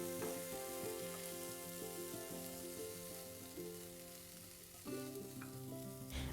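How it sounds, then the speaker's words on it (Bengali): Broccoli fries in hot oil for a mustard broccoli dish, giving a faint, even hiss of sizzling beneath sustained tonal sounds. "তেলটা গরম হয়ে যাওয়ার পরে আমি এর মধ্যে ব্রকলিগুলো একটু ভেজে নেব"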